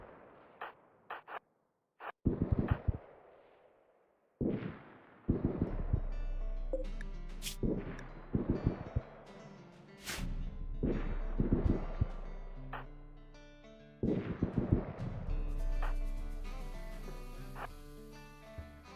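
Video game gunfire in a survival game set on an asteroid: a string of sharp, clean shots and bursts spaced unevenly across the clip, some rapid and clustered, with no voices over them.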